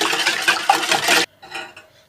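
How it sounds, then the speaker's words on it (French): Butternut squash purée, cooled, being stirred into an oil and egg batter for autumn butternut and apple muffins, with dense scraping and clinking of a utensil against a bowl that stops abruptly, leaving softer, fainter stirring. "Ma purée a refroidi, je vais pouvoir maintenant la mélanger"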